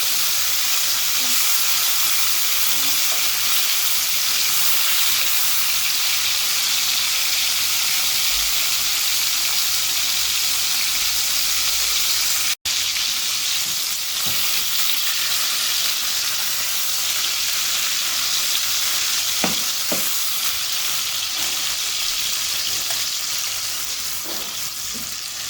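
Prawns for tamarind prawn fry in a pan with a loud, steady sizzle and hiss lasting throughout, broken by an occasional stir or clatter near the middle and toward the end.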